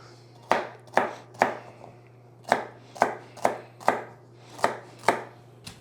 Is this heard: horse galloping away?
no